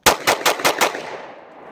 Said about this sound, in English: I'm going to fire this thing as fast as I possibly can. 6 rounds.